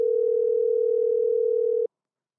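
A steady telephone dial tone hums at a constant pitch for about two seconds and then cuts off abruptly, heard alone with no talking during a call to Matt.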